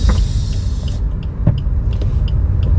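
A Suzuki Ertiga GL with a 1400 cc four-cylinder engine pulls hard while driving, a loud steady low rumble with a few faint clicks over it and no talking.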